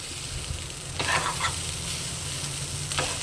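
Brinjal fried rice with egg being stirred and tossed in a hot pan, a steady sizzle with a few louder scraping strokes of the spoon, close and alone without voices.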